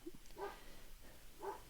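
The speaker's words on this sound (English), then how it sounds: "Archie, my barking dog" Archie the dog gives a few faint, distant barks, two short yaps spaced about a second apart over quiet room tone.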